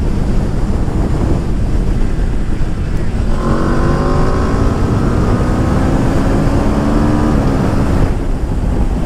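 A 2021 Aprilia RSV4 1100 Factory motorcycle revs up loudly from about three seconds in, its engine note rising in pitch over heavy, constant wind roar at speed, then dropping away near the end.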